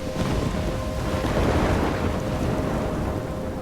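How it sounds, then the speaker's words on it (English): Thunderstorm in the video game Life Is Strange, a dense, loud wall of rain and wind roar with deep rumbling underneath and a faint steady tone, continuous throughout. "I'm trapped in a storm?"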